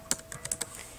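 Light typing on a computer keyboard, a quick run of soft, irregular key clicks, close and alone with no talking.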